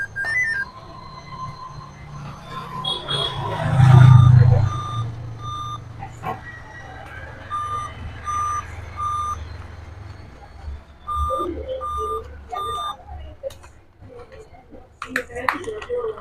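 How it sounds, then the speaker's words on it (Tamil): A laptop gives a repeated warning beep during SSD repair while its failed battery keeps it powered on: evenly spaced short electronic tones over background noise, with someone talking throughout. "வார்னிங் சவுண்டு இன்னும் வரதுக்கு காரணம் உள்ளே வந்து அது ஆனில் இருக்குது."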